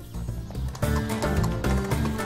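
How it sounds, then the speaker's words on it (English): An Arabian stallion whinnies among clip-clopping hooves and dense background sound, the neigh and hoofbeats blended into a continuous, fairly loud mix. "The famous Arabian stallion is the most highly prized horse in the region to this day."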